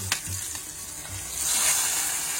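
A hot tempering of dried red chillies, black pepper, curry leaves, mustard seeds, fenugreek and asafoetida is poured into sambar, starting with a few pops and then swelling into a loud, continuous sizzle.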